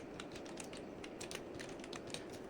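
Typing on a computer keyboard, quick irregular clicks of individual keys at a soft, close level over a faint background hiss.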